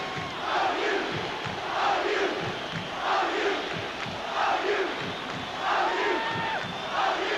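A huge football stadium crowd at Owen Field, Oklahoma, roars and chants in repeated rhythmic swells, loud and continuous, echoing around the stands.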